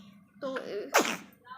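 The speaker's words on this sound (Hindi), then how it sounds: "मतलब छींक निकल गई बच्चे की" A small child sick with viral fever gives a single short sneeze, close and clear, right after a brief spoken word.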